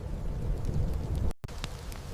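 Low rumbling thunder rolls under steady rain, a dense continuous wash with a deep undertone, interrupted by a brief cut before the rain resumes.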